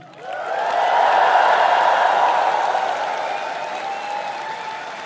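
A large hall audience of thousands at a live spiritual talk in Kathmandu breaks into sustained applause and cheering, a dense, loud wash of clapping that swells quickly and holds steady before easing slightly.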